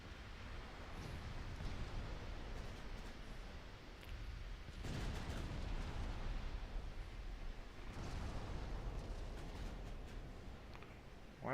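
Naval gunfire and shell explosions from the warship battle game Ultimate Admiral Dreadnoughts, heard as a continuous rumbling roar with heavier booming bursts near the middle and toward the end, no talking.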